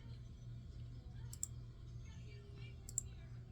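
Two sharp, distinct computer mouse clicks land about a second and a half apart over a quiet room, with a voice speaking faintly around them.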